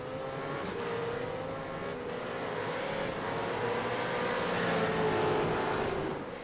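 Race cars circulating at Oran Park during an AOSC Super Series round: a steady, droning engine note from several cars at middle distance, rising and falling gently in pitch and swelling slightly toward the end.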